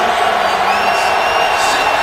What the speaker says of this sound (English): the fans giving the officials the Bronx cheer